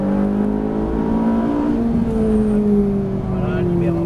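A Ferrari 458 on a race track accelerating, its engine a steady loud drone with pitch sliding through the gears, close and continuous.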